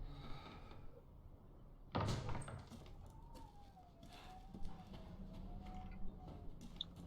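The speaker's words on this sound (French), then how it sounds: "J'ai cru entendre la porte s'ouvrir." A door opens in Resident Evil Village with a sharp burst near two seconds followed by a faint creaking, drawn-out tone, all quiet and distant against low ambient rumble.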